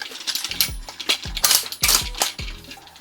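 An Ares Lee Enfield L42A1 airsoft rifle firing heavy .40g BBs, a quick series of sharp mechanical clacks and metallic snaps close up, about five or six in three seconds.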